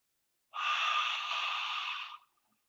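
A single long in-breath during a subtle midweek yoga class, steady and airy for about a second and a half, close and fairly soft, with no talking over it.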